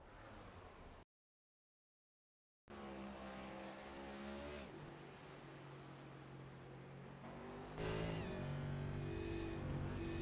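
A damaged race car limps down pit road at Homestead-Miami Speedway under caution, its engine droning and shifting pitch at moderate distance, with a brief dropout early on.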